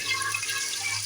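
Water poured into a pan of masala paste with salt, ground coriander, red chili and turmeric while cooking chicken feet, a steady close splashing pour lasting about a second with no talk.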